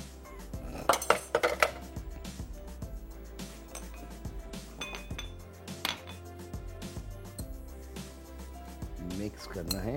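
Utensils clink and scrape against a mixing bowl while minced meat kheema is being mixed, giving irregular metallic taps with a sharp cluster early on, quiet and close.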